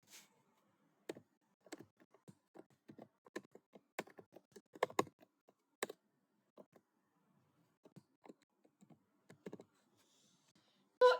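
Python code being typed on a computer keyboard: quiet, irregular key clicks in short bursts and single taps with pauses between, close and isolated with no talking.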